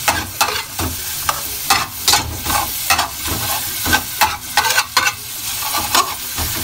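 Garlic frying over medium heat in a little leftover oil from cooking tofu, a steady close sizzle broken by repeated scraping strokes of a spatula as it is stirred, with no talking.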